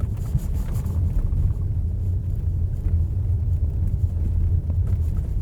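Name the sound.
Lexus RX 450h+ plug-in hybrid driving over a speed bump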